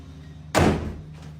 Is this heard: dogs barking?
no